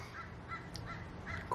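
Several crows caw in an outdoor setting, harsh calls repeating at a steady pace over a constant low background rumble, moderately distant with no one talking.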